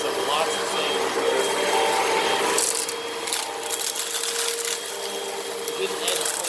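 A Hoover Rewind upright vacuum with its height set high deep-cleans carpet, a steady loud motor whir with scraping and rubbing as it is pushed back and forth, under an intermittent voice.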